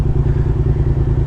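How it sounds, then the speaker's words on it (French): A motorcycle engine drones steadily nearby, a loud, low rumble with a slight rhythmic pulse that stays even throughout, heard alone with no talking. "J'ai cru entendre une moto."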